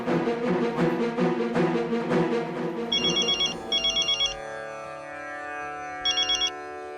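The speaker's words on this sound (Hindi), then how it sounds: "तू पहले मनु महाराज को फोन कर" Telephone ringing in a Hindi comedy scene, with repeated bursts of a bright electronic ring tone in short pulses following a musical passage, loud and clear.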